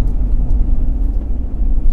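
A car drives along a road on the way from Delhi toward Gaurikund, giving a loud, close, low rumble of engine and road noise that stays constant and rough.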